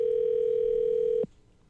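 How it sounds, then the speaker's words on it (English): A telephone dial tone holds one steady, loud, unbroken pitch for just over a second as a live call is placed, then cuts off abruptly into near silence. "Live phone call, first time in podcast history"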